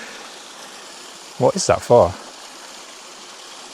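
A stream flows steadily outdoors by an old water gate, a soft continuous wash of running water heard throughout, briefly covered by a person speaking in the middle.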